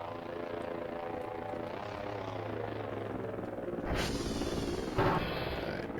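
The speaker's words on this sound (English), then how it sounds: "There comes a drone." Drone in the video game Voices of the Void passing nearby, a droning rotor hum with harmonic whine that shifts in pitch, growing louder toward the end with brief broadband swells.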